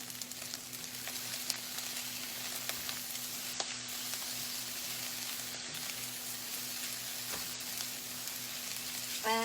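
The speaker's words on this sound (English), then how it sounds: "keep it moving because you are cooking it on a high heat" Chicken fried rice stir-frying in a pan over high heat, a steady close sizzle with soft scraping and occasional small clicks from the utensil, continuous throughout with no voices.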